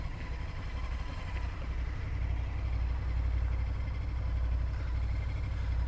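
A motorcycle engine, a Triumph, rumbles steadily and close, a constant low throb that grows slightly louder through the stretch, with no talking.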